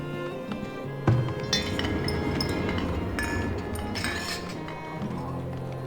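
Light glassy clinks and chimes from a glass maker's workshop in the settlement game Farthest Frontier, scattered taps over a soft ambient bed, one sharper knock early on.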